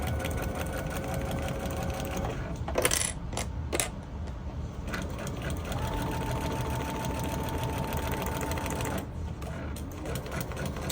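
A sewing machine runs steadily and close while back-stitching quilt blocks together, with a continuous mechanical whir, a short cluster of clicks partway through, and a slight change in pitch as the stitching shifts.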